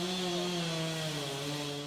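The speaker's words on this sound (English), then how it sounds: "A month later, the chainsaws started again." Chainsaws cut into trees in a California Civil War grove, a steady droning engine whine held without a break, moderately near, with no voices.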